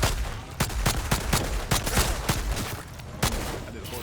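Rapid bursts of gunfire in the Outriders shooter game, a dense rattle of shots with loud cracks scattered through four seconds, punchy and close with no talk.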